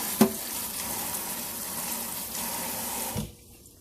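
A kitchen faucet runs steadily while a fork is rinsed under it, with a clink of metal near the start, then the water cuts off abruptly near the end, leaving quiet.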